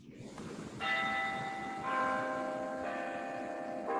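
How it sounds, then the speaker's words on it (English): Campus bell tower bells ringing: a series of clear, resonant bell strikes about once a second, each ringing on and overlapping the next, heard from a moderate distance over a low background hum. "that's the bell tower right behind the Zoom there on campus"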